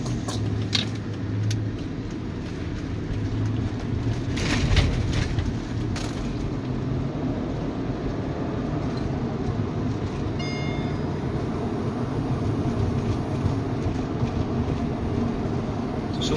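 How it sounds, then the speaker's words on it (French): A car driven through traffic, a steady low engine and road rumble running throughout with a few faint clinks and rattles inside the cabin. "Je suis en train de conduire."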